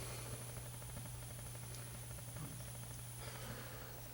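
Burner of a 2002 gas hot water heater running, a steady breathy roar with a low hum underneath, continuous and close, with a couple of faint clicks partway through.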